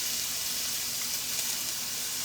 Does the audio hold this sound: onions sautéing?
yes